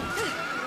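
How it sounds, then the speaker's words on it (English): A horse in the video game Dragon Quest XI lets out a short, close whinny that rises and falls over steady background game sound, with no voices. "He scared the horse."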